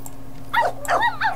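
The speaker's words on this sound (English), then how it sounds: "Dog!" A dog gives three quick high yips or short barks close by, alone over a low steady hum.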